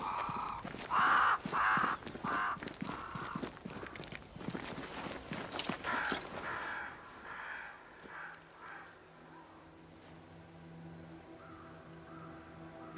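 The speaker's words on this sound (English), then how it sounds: "crows. They flock to that great tree up there." Crows caw repeatedly in the video game Banishers: Ghosts of New Eden, a flock gathered around a great tree, with harsh rhythmic calls over footsteps before they fade into a quieter ambient hum.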